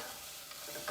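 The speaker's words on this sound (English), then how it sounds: "I'm gonna give our onion one little stir." Onions sauté in a pan as they are given a brief stir, producing a continuous close sizzle with a faint scrape of the utensil.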